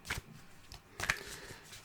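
Oracle cards shuffled for a romantic card reading, two quick riffling bursts of card shuffling close by, separated by a short pause, with no talk.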